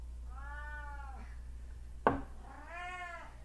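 A pet cat meows twice in a quiet room, two drawn-out calls separated by a short sharp knock.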